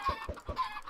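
Chickens clucking on a chicken farm in Minecraft, a short run of three or four quick close clucks in a regular rhythm.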